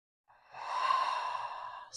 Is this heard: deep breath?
yes